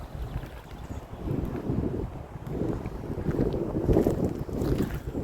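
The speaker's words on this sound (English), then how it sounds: "Bit of a wind." Gusty wind buffets the microphone on an outdoor nature trail, a steady low rumbling roar that swells and dips in strength throughout, with no other sounds standing out.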